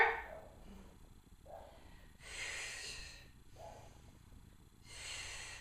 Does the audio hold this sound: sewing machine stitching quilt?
no